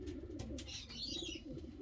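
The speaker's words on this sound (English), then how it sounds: "And here's just one angry looking pigeon" Pigeon cooing at close range, a soft repeated low murmur over roughly two seconds with faint chirps from other birds above it, no voices present.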